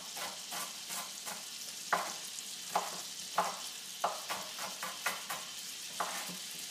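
Garlic, oil, butter and chopped shallots sizzle in a pan for shrimp scampi, a steady frying hiss broken by repeated sharp clacks of stirring against the pan, with no talking.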